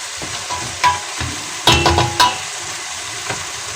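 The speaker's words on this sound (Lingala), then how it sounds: "Matungulu na ngai yango ezobela" Onions frying in a pan give a close, steady sizzle broken by sharp clatters and scrapes from stirring, with a few louder bursts around the middle.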